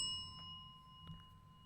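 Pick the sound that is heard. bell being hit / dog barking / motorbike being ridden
bell being hit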